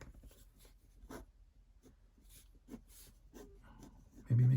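Pencil scratching across paper in short, quiet strokes during a quick figure sketch, a series of soft brushing scrapes with brief pauses, close and faint, ending in a louder bump.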